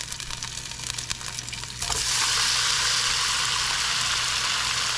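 Beef chuck tips dropped into a smoking hot pan with fat burst into a loud, steady sizzle that holds broad and constant after a brief lead-in of softer frying.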